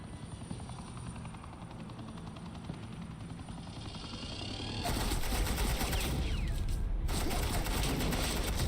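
Suppressing gunfire in a Batman video game sounds as a dense, continuous rattle of rapid shots. A helicopter-like roar runs under it, and the barrage swells louder and harsher partway through.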